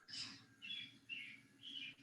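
A bird chirps four times in a steady run of short, bright calls, close and fairly clear against a low room hum with no talk.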